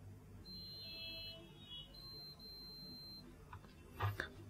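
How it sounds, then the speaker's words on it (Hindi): A multimeter on continuity setting gives short electronic beeps as its two probe terminals touch in an electronics transistor practical, thin steady tones in bursts followed by a couple of clicks at the end. "तो इस कॉन्टिन्यूटी पे जब ये दोनों टर्मिनल आपस में कनेक्ट होते हैं तो ये बीप करते हैं।"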